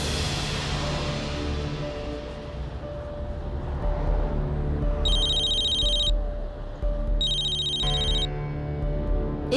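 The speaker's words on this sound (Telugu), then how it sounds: "ఈ బుల్బుల్ నాకెందుకు ఫోన్ చేస్తుంది?" A telephone rings in short electronic bursts, two rings spaced a few seconds apart, over steady background music and ambient sound in an Indian television serial scene.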